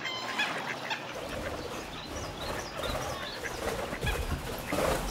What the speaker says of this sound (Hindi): पंछी है और क्या है?